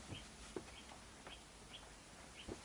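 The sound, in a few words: bird calling outside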